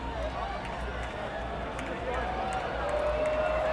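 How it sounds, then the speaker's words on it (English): A large crowd watching the 2017 total solar eclipse in the Carolinas, a dense wash of chatter, gasps and excited calls spread all around at moderate loudness, with voices overlapping and no single speaker standing out. "There are gasps everywhere. People are chatting. People are so excited. They are cheering. They are yelling."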